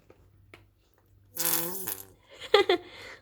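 A squeeze bottle of honey squirting out in a sputtering, flatulent burst lasting about half a second, then a couple of shorter squelchy spurts, close and fairly loud against a quiet kitchen.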